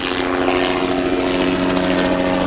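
Steady, loud rotor and engine roar of a helicopter flying overhead at an outdoor Illinois festival, continuous throughout without talking.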